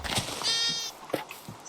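Sheep in the Minecraft video game bleat once in a clear, drawn-out bleat, with a few faint clicks and soft game noises around it.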